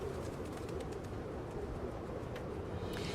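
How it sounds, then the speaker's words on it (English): Pigeons cooing in the video game Hyrule Warriors: Age of Imprisonment, soft repeated coos set in a steady dense wash of ambient game sound with no talking. "Pigeons!"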